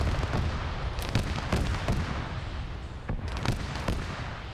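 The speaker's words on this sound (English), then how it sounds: "I think they're firing smoke shells." Heavy gunfire and booming shell launches in an Operation Flashpoint WW3 NATO versus Russia battle, read as smoke shells being fired, with repeated sharp reports over a constant dense rumble.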